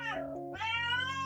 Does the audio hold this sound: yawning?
no